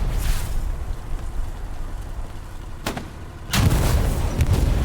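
Tank cannon firing and a shell exploding in a video game tank battle, heard as two sharp booms about half a second apart over a steady low engine rumble, with no talking.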